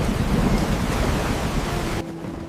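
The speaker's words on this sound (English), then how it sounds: "This storm sounds so much worse than forecast." A storm with heavy wind and thunder roars loud and continuous, a dense low rumble that drops slightly near the end.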